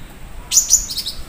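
A caged cucak cungkok songbird gives a few bright, sharp chirps close to the listener, starting after a short quiet stretch. The calls come in quick succession and are followed by a fainter tail.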